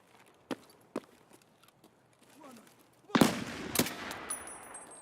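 Gunfire in the video game Escape from Tarkov: two sharp distant shots, faint footsteps and scuffles, then a loud close burst of shots that rings out and decays, with brief electronic tones at the end.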